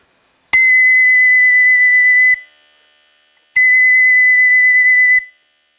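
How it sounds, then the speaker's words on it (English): A B flat flute sounds a loud, piercing, steady D twice, each note held about two seconds with a pause between, close and alone. "Okay, that's quite loud. So that's D."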